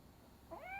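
A cat in the video game Robocop: Rogue City gives a single short, rising meow near the end, fairly faint over a low background hum.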